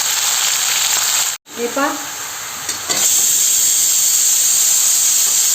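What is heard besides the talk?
mutton added to hot masala, sizzling and steaming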